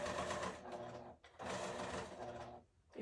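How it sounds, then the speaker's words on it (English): Sewing machine motor runs in quick whirring bursts with brief pauses as it cycles the needle down, close and steady, with a faint voice in the background. "It'll cycle down to the needle down position every time."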